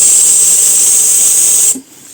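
A Karcher SC5 steam cleaner, used on a car, releases a loud, steady hiss of steam for nearly two seconds, close to the nozzle, then cuts off abruptly and leaves quiet room noise.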